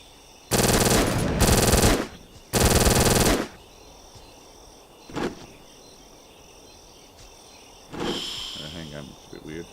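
Bursts of rapid automatic gunfire from a basic run-and-gun combat scene in the GameGuru game engine, two long loud volleys followed by shorter single shots and a later burst over a chirping insect-like ambience.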